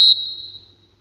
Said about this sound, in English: There's the whistle for half-time.